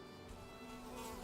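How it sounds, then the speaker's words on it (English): A mosquito buzzing in the Viking survival game Valheim, a faint, steady, high-pitched whine that holds continuously with no talk over it. "Stupid mosquito."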